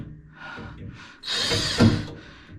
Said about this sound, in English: So I reckon what I can also do is just drill them out a little bit further so that they fall through